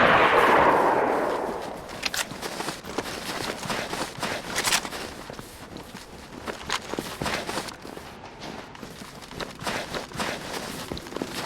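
Gunfire from DayZ survival gameplay, a string of loud sharp shots from a .45 with irregular spacing, the opening burst loudest and later shots mixed with footsteps and ambient game noise.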